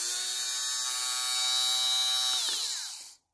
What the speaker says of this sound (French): Donc ça, c'est mon rasoir à bouloche.